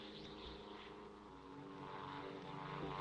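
A propeller-driven military airplane drones steadily overhead, a continuous low engine hum that swells slightly toward the end, with no voices.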